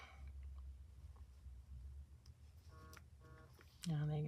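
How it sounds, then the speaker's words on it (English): A mobile phone rings with short repeated electronic chirps, then a louder sustained tone, over quiet background rustling and occasional voice. "there goes my phone"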